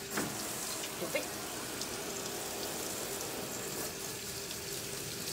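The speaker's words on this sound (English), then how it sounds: "Lots of rinsing." A steady rush of water rinsing a dog during a grooming session, a continuous spray with a few small splashes, fairly close and uninterrupted.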